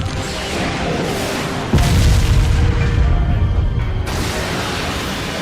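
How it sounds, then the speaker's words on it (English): An anime fire-style majestic hurricane technique blasts out as a loud, continuous roaring boom, with a deeper surge of rumbling force partway through and sustained fiery rushing throughout, no voices over it. "Fire style, majestic hurricane!"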